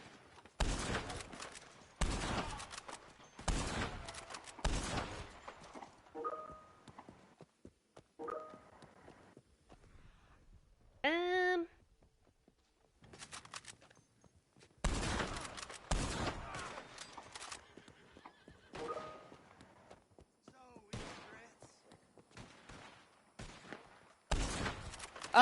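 Gunfire in Red Dead Redemption Online, with several dense bursts of rapid shots separated by quieter stretches of hoofbeats and movement, sharp and loud in the foreground.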